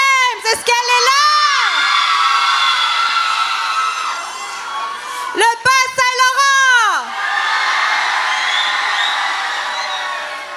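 A large crowd at a regional closing ceremony in Quebec shouts and cheers in two loud bursts, with an announcer's voice calling out between them over the arena.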